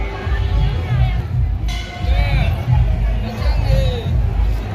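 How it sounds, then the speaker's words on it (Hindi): Dense crowd hubbub fills the inside of the Sampoorna Ashta Mahalaxmi temple, many voices overlapping in a steady, loud babble with no single speaker standing out. "आज भीड़ का नज़ारा देखिए"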